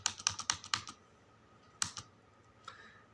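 Computer keyboard keys pressed while entering data in Tally Prime accounting software: a quick burst of about eight crisp clicks, then a pause and two more isolated taps, close and clear with no talking.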